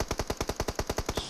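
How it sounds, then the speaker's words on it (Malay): Rapid automatic gunfire in PUBG Mobile on the Miramar desert map, about a dozen evenly spaced shots in a fast burst, fairly close, with no talk over it. "Tembakan ke hadapan sana."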